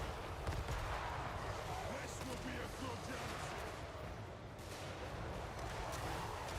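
A magic tower fires on units during a siege battle in the video game Total War: Warhammer III. A dense, continuous clatter of rapid shots and impacts rolls on without pause at a fairly low level.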